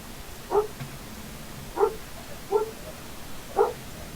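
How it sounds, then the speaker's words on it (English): A dog barks four separate times in the distance, short muffled yips spaced irregularly over a steady low background hum. "I heard barking."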